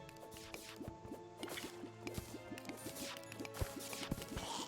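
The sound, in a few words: water being poured from a bucket in a video game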